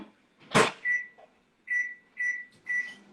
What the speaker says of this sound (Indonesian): Nah ini saya masukin microwave.